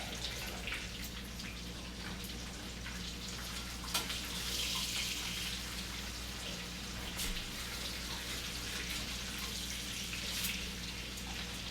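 Breaded pork chops coated in crushed pork rinds fry in a cast iron pan, giving a steady, close sizzle with fine crackling spatters throughout and no voices.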